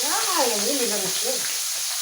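Food fries in a hot pan with a steady, close hiss and sizzle, while a voice sounds over it.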